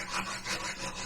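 Close, loud scratchy rasping of a wire brush scrubbed back and forth over a rusty magnet-fishing find, with a few uneven strokes blending into continuous scraping.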